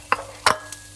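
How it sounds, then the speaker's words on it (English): Onions browning in a pot for chilli con carne: two short stirring scrapes with a brief sizzle, then a faint third touch, close by and fairly quiet. "just brown the onion a little bit"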